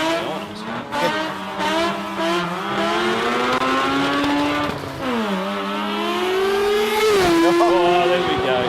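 A sports compact drag racing car at an Australian drag racing meet screams loudly as it accelerates hard, its engine pitch climbing and then dropping sharply at each gear change, several shifts in quick succession.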